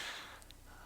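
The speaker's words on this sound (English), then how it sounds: "Sorry, bit of a yawn." A single breathy yawn, close and soft, with a long airy exhale that trails off quietly.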